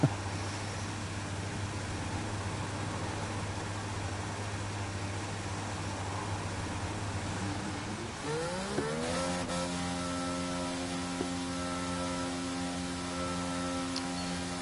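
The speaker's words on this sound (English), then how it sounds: "engines fired up, we're set" F1 race car engine from the F1 22 game at Bahrain, a steady low idle drone that suddenly revs up partway through into a rising, high-pitched whine holding several harmonics, with no talk.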